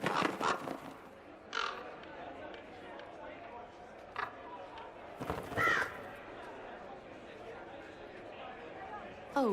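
Crows caw in short harsh bursts scattered over a quiet outdoor scene in the Dragon Age Inquisition Trespasser game, with faint background chatter and light movement sounds between calls.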